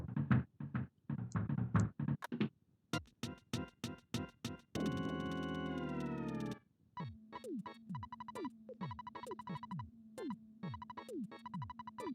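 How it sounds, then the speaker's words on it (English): Knocking on a door in the Earthbound video game, with a few quick bursts of knocks among chiptune sound effects and a bright musical jingle, loud and close with no talk. "Who could be knocking at the door?"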